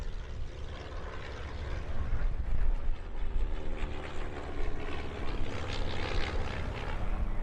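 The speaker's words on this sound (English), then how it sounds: "Here are several Royal Air Force training aircraft. First up, 2 examples of the DHC-1 Chipmunk." Two DHC-1 Chipmunk RAF training aircraft fly past at an air show, their propeller engines giving a steady, broad droning roar that swells slightly in the middle and holds loud throughout, with no talk.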